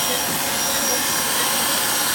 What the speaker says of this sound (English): Once the hair is removed, we will vacuum the limb.